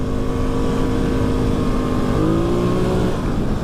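A quad bike engine revs hard and steadily, close and loud, rising in pitch toward the end as the wheels spin and slip on rutted ground.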